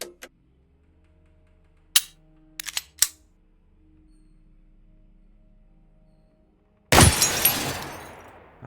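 Gunfire in the video game Receiver 2: a loud, sharp shot with a long ringing decay near the end, preceded by a few quieter clicks of handling the gun over faint background hum.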